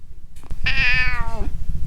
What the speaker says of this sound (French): mon chat Zoro voudrait vous dire le mot de la fin